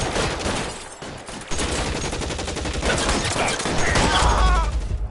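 Gunfire in the LA Noire video game, loud rapid bursts of shots in a dense, continuous firefight with little pause and no clear talk over it.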